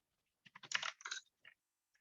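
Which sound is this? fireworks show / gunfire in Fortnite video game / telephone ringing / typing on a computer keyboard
typing on a computer keyboard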